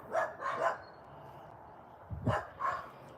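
Dogs behind a fence barking in two short bursts of a few barks each, fairly close, separated by a brief pause.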